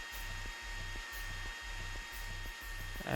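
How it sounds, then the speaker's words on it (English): A kitchen mixer in the video game Backbone runs with a steady, whirring, hiss-like drone, pulsing in a regular rhythm about twice a second, with no talking. "Oh, I messed up the mixer."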